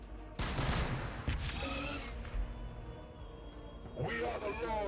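Rockets firing in the Warhammer 40K: Battlesector video game, a loud burst of explosive launches and rumbling blasts followed by another volley near the end, mixed with game voice lines.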